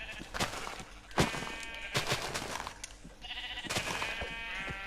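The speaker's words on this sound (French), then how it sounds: "Ah, mais saleté de mouton, tu vas pas crever toi." Minecraft sheep bleating several times in quick succession, loud and close, with game sound effects and clatter between the bleats and no talking.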